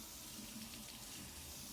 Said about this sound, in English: What I like to do is I like to rinse it off first